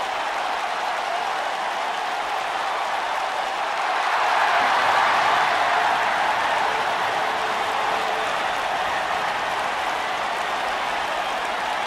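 A large video game wrestling arena crowd cheers and applauds continuously, a dense roar of noise that swells slightly midway and holds steady throughout.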